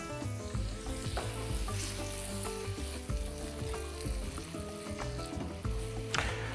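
Onions frying in a pan for dolma, a dense continuous sizzle with stirring scrapes and small pops, close and steady, no voices.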